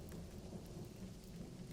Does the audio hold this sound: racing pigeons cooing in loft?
no